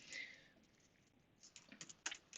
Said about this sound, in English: So I'll just start typing the code.